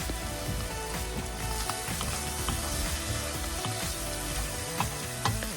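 Diced baby jackfruit with tinned fish and turmeric sizzling steadily in a hot pan while being stirred, a dense continuous fry with occasional scraping clinks, loud and close with no talking.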